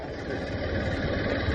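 A 160cc motorbike engine runs steadily up close, a continuous low, throbbing drone with even intensity throughout, no voices over it.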